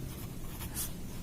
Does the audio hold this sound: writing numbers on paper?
yes